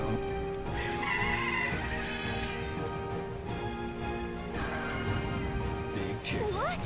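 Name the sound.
big chicken clucking in a video game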